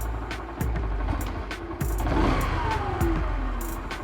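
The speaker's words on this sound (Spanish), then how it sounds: "voy a acelerar" A car engine revs up and settles back during idle speed adjustment, with repeated rises in engine pitch over a steady running idle, close and fairly loud.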